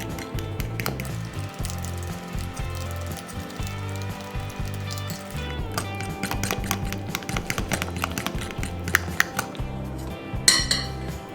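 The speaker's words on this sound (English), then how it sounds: "Mix all of the ingredients well." Chicken marinade ingredients of garlic and salt get mixed in a bowl, with steady clinking and scraping of a utensil against the dish, a busy rhythmic clatter up close with no talking.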